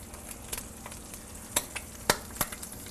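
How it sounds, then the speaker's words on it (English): Eggs fry sunny side up in a hot pan, a soft steady sizzle broken by several sharp, close pops scattered unevenly over a few seconds. "As you can hear, those eggs are popping."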